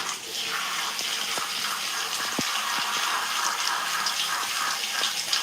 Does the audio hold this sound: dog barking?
no